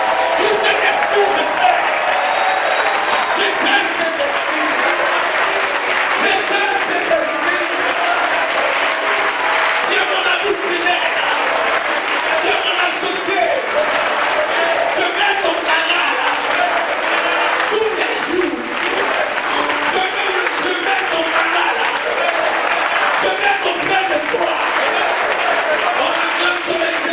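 Church congregation at a Sunday worship service applauding and cheering to acclaim the Holy Spirit, dense sustained clapping with whoops and a voice speaking over it, loud and continuous throughout.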